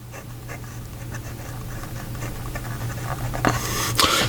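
A fountain pen with a medium steel nib scratches across paper, a faint continuous rasp with small strokes, ending in a couple of louder scrapes, with no talk.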